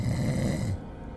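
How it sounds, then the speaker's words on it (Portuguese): A father snoring at three in the morning: one long, loud, rasping inhaled snore with heavy low rumble that cuts off sharply, followed by near silence. "Às 3 da manhã só dava para ouvir o ronco do meu pai."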